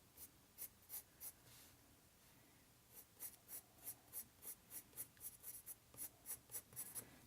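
Coloured pencil scratches across paper in quick, even back-and-forth strokes, sparse at first then a steady rhythmic run of a dozen or more soft, close strokes.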